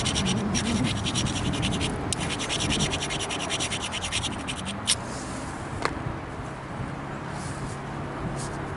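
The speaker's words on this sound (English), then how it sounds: "I might edit out some of the grinding" A Mookaite flint point has its edge ground on a grinder, giving a steady, close rasping scrape for about five seconds before it eases off into a quieter hiss broken by a couple of sharp ticks.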